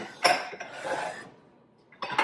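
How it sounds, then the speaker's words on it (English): Fiesta ceramic dishes and a large oval serving platter clank and clink together nearby, two bursts of clattering separated by a quieter stretch, with no talk. "you're gonna hear dishes clanking here"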